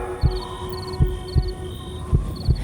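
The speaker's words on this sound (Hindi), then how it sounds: "रमेश का दिल जोरों से धड़कने लगा।" Heartbeat effect in an animated horror tale, steady paired thumps repeating about every half second, close and prominent over a faint hum with high chirping tones.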